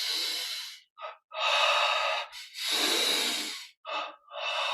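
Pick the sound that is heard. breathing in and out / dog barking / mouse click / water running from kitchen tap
breathing in and out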